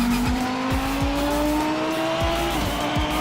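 Race cars in a VR racing video game roar with a steady rising engine note, engine sounds loud and continuous, with tire squeals and brief gear-shift drops throughout.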